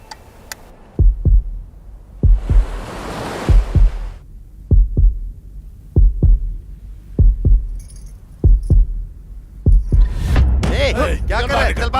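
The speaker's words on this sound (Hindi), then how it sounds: "मेरा दिल और तेजी से धड़कने लगा।" A deep, booming heartbeat effect thumps in paired lub-dub beats at a steady rhythm in a Hindi-dubbed South Indian film scene, loud and close, with swelling music and sparse voices mixed in.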